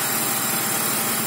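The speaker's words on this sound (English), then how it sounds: "the engine works very nice, very smooth" The engine of a 1999 BMW E46 323ci coupe runs at a steady, smooth idle, recorded up close as an even, dense mechanical hum with no voices.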